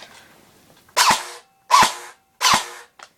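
A JG M16A4 DMR airsoft rifle on full auto with a low battery, firing three slow, sluggish bursts, each a loud, close, rasping whir separated by short silences.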